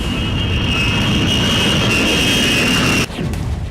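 A Polish fighter jet roars steadily overhead with a loud, continuous broadband engine rush and a sustained high whine, cutting off abruptly near the end.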